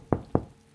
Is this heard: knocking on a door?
yes